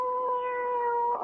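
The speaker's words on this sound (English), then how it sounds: "Oh, now, really, that cat in bed again." A house cat in a bedroom gives one sustained, steady meow lasting just over a second, clear and close with no talking, as a radio drama sound effect.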